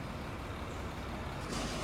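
A truck passing nearby, a steady low engine rumble with a sharp hiss of air brakes releasing near the end, fairly faint and heard alone.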